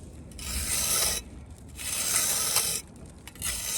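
A steel trowel scrapes wet mortar up a stone parapet in three long, rasping strokes with short pauses between, close and fairly loud.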